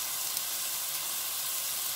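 Whole spices such as cinnamon sticks, black cardamom and bay leaves sizzle steadily in hot oil in a pan, a loud, continuous bright hiss with no pauses.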